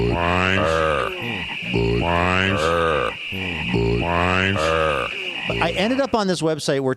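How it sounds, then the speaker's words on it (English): Human-made frog croaking sound effects from a library repeat in a series of loud, throaty, rhythmic croaks, with someone talking over them near the end. "somebody who was probably just creating an entire large library of sound effects decided to try to make a bunch of frog sound effects"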